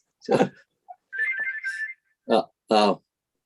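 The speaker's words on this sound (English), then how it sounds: "I've got a phone going now, so it's just going to kick into answer phone." A phone rings during an online grant panel meeting, giving a warbling electronic trill between short bursts of nearby talk.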